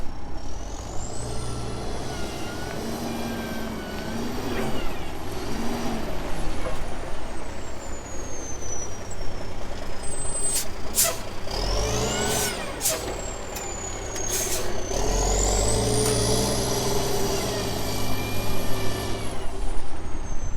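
Truck towing a hay trailer pulls up in a barnyard, its engine rumbling steadily with loud air brake hisses and whines partway through, close and without speech.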